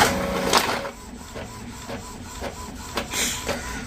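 An Epson L3250 EcoTank printer prints a test page, giving off continuous mechanical whirring with repeated clicks and short feed pulses at a moderate, close level.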